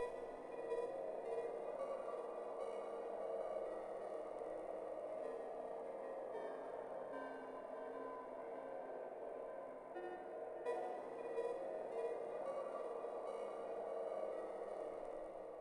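Dark ambient synth sample pitched up from A2 to D sharp 3 and triggered twice, a faint, murky, sustained drone with a hissy texture and a subtle retrigger partway through, with no voices.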